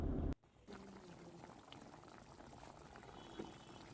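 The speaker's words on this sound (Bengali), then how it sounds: "এবার পুরো ঝোলটা ভালোভাবে আবার মিনিট খানেক ফুটিয়ে নিতে হবে" Prawn malai curry gravy boils in a pan with a steady, soft bubbling and crackling simmer, close and continuous after a brief loud noise at the start.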